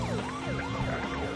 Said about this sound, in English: it's because the ambulance spawned in his face